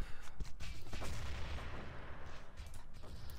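Grenade blasts during an Urban Terror team match, a quick series of dull booms and cracking bursts overlapping one another at moderate volume, with no talk over them.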